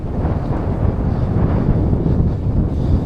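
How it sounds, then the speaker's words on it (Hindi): Strong, cold wind blusters steadily across the microphone beside the Dunaj canal in Slovakia, a loud continuous low roar with no break and no voices. "देख सकते हो कैसी तेज हवा चल रही है"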